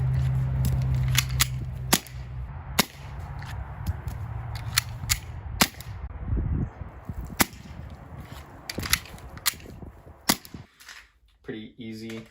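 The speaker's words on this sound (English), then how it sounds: "Just slide the magazine in, hit the release, and we're good to go." Beretta M92A1 CO2 airsoft pistol being handled: a magazine slides in, then sharp metallic clicks and snaps from the slide release and other handling, scattered irregularly across the clip, close and crisp, with a faint hum early on.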